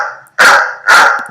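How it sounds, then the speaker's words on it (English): A dog sound effect from the iMovie library gives two loud, close barks, each separated by a short pause, with nothing else heard. "dog barking"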